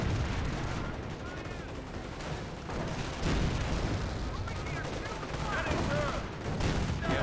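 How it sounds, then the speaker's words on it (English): Artillery shells pound a battlefield in Company of Heroes, with US forces clashing against Panzer Elite armor, a dense, continuous rumble of explosions and gunfire rolling on without pause for several seconds. "Artillery raining on in."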